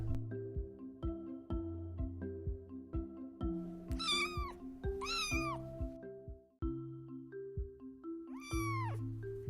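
A cat meows repeatedly in close, loud calls, several drawn-out yowls rising and bending in pitch over a steady background of rhythmic music, with no talk.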